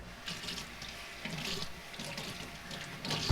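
Kitchen tap water runs into a sink to soak a towel, a steady close splashing stream with slight surges in flow while making Navajo fry bread dough.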